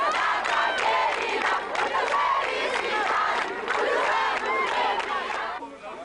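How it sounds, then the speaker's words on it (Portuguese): A dense crowd outside a hospital chants and cheers in unison, loud and sustained throughout with rising and falling shouted phrases. "Fora do hospital, uma multidão engrossou o coro."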